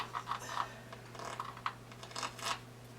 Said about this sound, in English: when you're cutting cakes with nuts and all other kind of stuff on the inside